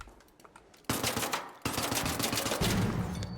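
A turret in a Dam Battlegrounds video game fires loud rapid bursts of automatic gunfire, starting after a short quiet stretch and continuing in dense repeated volleys, with no talking.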